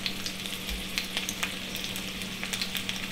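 Breakfast sausages sizzle and spit steadily in a hot frying pan, a continuous close crackle with scattered sharper pops and an occasional stir, no voices.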